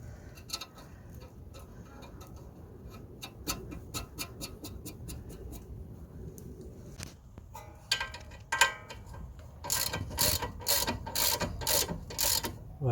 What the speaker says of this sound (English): Right, just gonna tighten the linkages now.